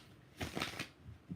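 Tarot cards shuffled in a few quick riffling bursts, soft papery rustles close by in an otherwise quiet room.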